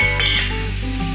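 Beef trotters (paye) sizzling and frying in an open pot, a loud, dense, continuous hiss close up with a brief scraping stir near the start and no voices.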